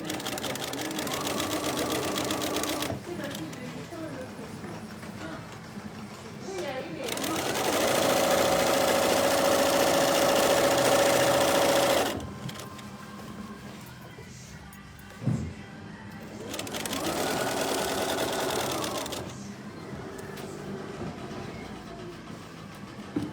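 A sewing machine stitches around the edge of a tote bag, running in steady whirring bursts of several seconds each, separated by quieter pauses and handling noise, loud and close.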